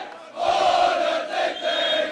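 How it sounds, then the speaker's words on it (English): A spectator crowd sings the Bishops school hymn at a schoolboy water polo match, a massed chorus of voices rising and falling in swelling phrases, loud and echoing. "The Bishops crowd singing the Bishops hymn will really get the Bishops guys fired up for the last few minutes of the game"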